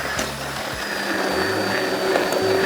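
An electric grinder whirs steadily and loudly, churning a pizza sauce of tomatoes, onion and garlic into a smooth blend, its motor hum constant with slight fluctuations as the contents spin.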